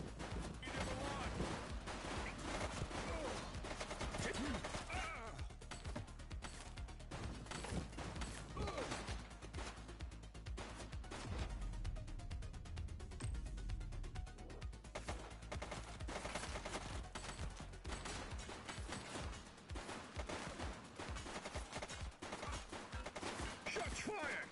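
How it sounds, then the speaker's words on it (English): Rapid gunfire in a police video game, sharp cracks and bursts going off loud and steadily throughout amid chaotic action, with shouted voices over the shooting. "Shots fired!"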